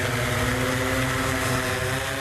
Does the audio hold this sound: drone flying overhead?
yes